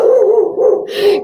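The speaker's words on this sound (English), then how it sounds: "clearly my dog saw something" A dog gives a few loud, close, drawn-out barks that slide toward howls, one after another with short gaps.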